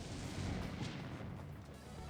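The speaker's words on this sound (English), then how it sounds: "A deafening explosion." A deafening burst of fire magic erupts in the visual novel game Dies irae, a dense, roaring explosion that holds loud and sustained across the whole stretch before easing slightly.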